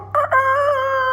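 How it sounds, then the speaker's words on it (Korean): A rooster crows at dawn: a single loud, close cock-a-doodle-doo with a short break after its opening note, then a sustained ringing call, alone without talk. "그때 새벽 닭이 울립니다"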